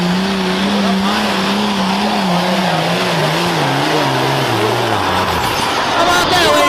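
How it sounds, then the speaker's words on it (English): A 466 cubic inch pulling tractor at an outdoor truck and tractor pull in Selinsgrove, Pennsylvania, its engine roaring loud and close, the throbbing pitch sagging steadily lower as it labors down the track. "A 466 cubic inch tractor"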